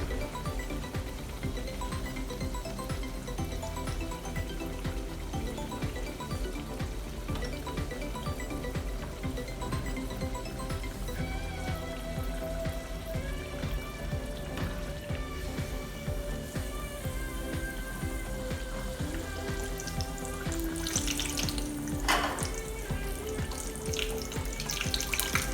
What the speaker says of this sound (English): Flip it so that both sides of the phalays are fried.